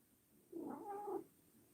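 A pet cat lets out one drawn-out, wavering meow-like call lasting about half a second, fairly close and clear, standing alone against a quiet room with no talking over it.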